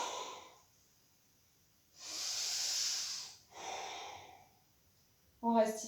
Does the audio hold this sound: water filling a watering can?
no